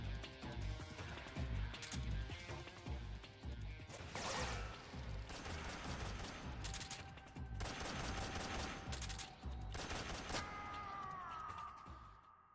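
Gunfire in the stealth-action video game Metal Gear Solid 3, several sharp shots cracking over a dense, loud game soundtrack and effects bed, ending in a swelling tone.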